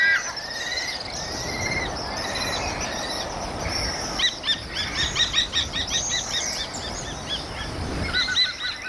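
Kestrel calls ring out from a cliff face in the Tswapong Hills of Botswana, a series of sharp repeated notes in quick bursts, fairly clear over steady outdoor background noise.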